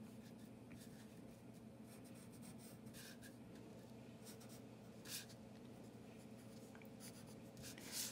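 A pencil draws shapes on paper during a two-point perspective art lesson, a faint, continuous scratchy rubbing with a few slightly sharper strokes and no talking.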